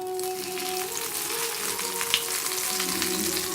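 Two vegetable cutlet pieces fry over a low flame in a small amount of oil, giving a steady, even sizzle throughout with faint crackles and one brief sharper pop.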